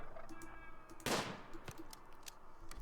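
A single sharp gunshot in the colony game Rimworld, one loud crack with a quick fading tail against a quiet low background hum.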